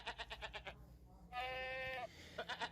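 A goat gives a single drawn-out bleat with a wavering voiced tone, set between stretches of quick rhythmic tapping or pattering near and far.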